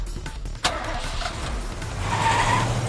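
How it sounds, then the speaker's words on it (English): A van engine in the game 428: Shibuya Scramble cranks and catches after a sharp click, then runs with a steady mid-pitched drone that swells as it pulls away, alone and fairly close. "The engine roared to life, and the van sped away."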